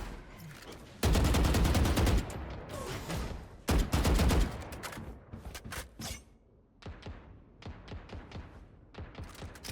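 Valorant gunfire from flick shots on the Fracture map, bursts of rapid automatic fire followed by a string of sharp single shots in quick succession, loud and close.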